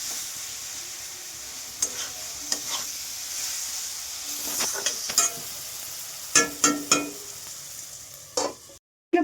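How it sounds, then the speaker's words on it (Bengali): Tomato chorchori fries in oil in a pan over a low gas flame, making a soft continuous sizzle broken by sharp scraping stirs that bunch together toward the end, close and fairly quiet with no talk. "এটা সব একদম পুরো এটাকে মিক্স করে আবার আমি গ্যাসটাকে অল্প আঁচে রেখে দেবো।"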